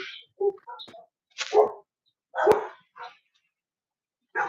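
A dog barks in several short, separate bursts spread through the moment, close and fairly loud, with quiet gaps between the barks.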